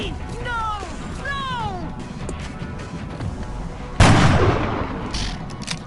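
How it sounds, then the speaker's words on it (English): Sniper rifle fire in XCOM: Enemy Within, one sharp loud blast landing about four seconds in over game ambience and chirpy alien calls, with a voice talking throughout. "Of course you miss shooting at point blank with a sniper rifle."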